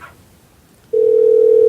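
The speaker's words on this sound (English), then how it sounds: "I think we are getting a ring." A telephone line on a call, with a brief faint sound at the start, a quiet pause, then a loud, steady, unbroken tone for the rest.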